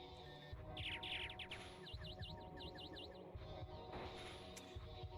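Chatot, the bird Pokémon in Pokémon Reborn, lets out its cry: a series of rapid, warbling electronic chirps over dense, loud game music.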